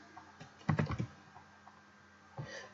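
A short burst of quick keystrokes on a computer keyboard, a cluster of soft clicks followed after a pause by one or two more taps, faint and close in a quiet room.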